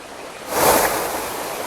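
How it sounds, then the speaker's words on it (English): A log flume boat in Second Life plunges into water, throwing up a broad whooshing splash that swells and then settles into a steady rushing wash. "I like the splash of water coming up."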